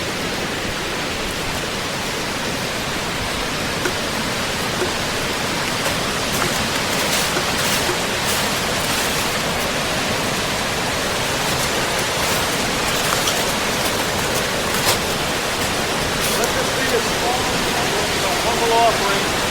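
Water rushing over Slater's Dam on the Blackstone River, a steady broadband roar that holds even and continuous throughout, close and fairly loud with no break.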